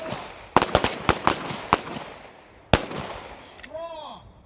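Sharp gunshots crack out at a shooting training range during a men's retreat, a rapid cluster of about six close, loud reports followed by a lone shot after a pause, with faint voices in the background.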